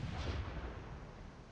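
Heavy artillery guns firing and shells exploding in the video game Fallout 4, heard as a loud, dense, rumbling blast that swells early and rolls on continuously with deep low-end boom.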